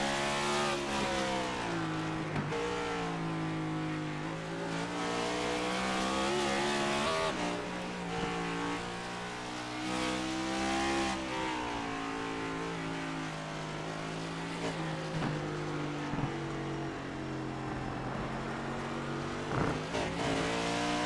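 Cup Series race cars lap the Charlotte Roval road course in the iRacing sim, their engines droning continuously with shifting revs and gear changes over the full stretch, loud and close, and no commentary is heard.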